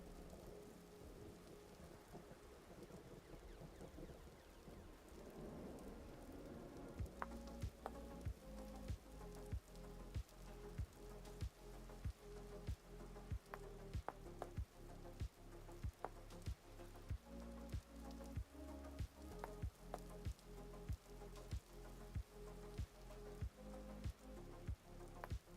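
Steady rain with rolling thunder from a lightning storm in Vintage Story, a low rumble swelling early before a run of regular, evenly spaced thuds and clicks continues over the downpour, with no talking.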